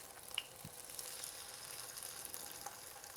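Half a block of tofu pan-frying in oil in a small pan, a soft continuous sizzle with faint crackles and one brief bright tick, quiet and close with no voices.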